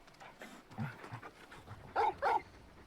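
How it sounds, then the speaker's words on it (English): A big dog in Final Fantasy XVI pants and huffs at close range, with a couple of louder breathy bursts near the end and no talk. "You're just a big puppy, aren't you? A very big puppy."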